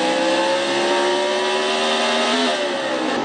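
A race car engine screams at around 10,000 RPM during a Castrol GTX Cup Series race, a loud, continuous high-pitched whine that holds nearly steady and then dips slightly in pitch near the end.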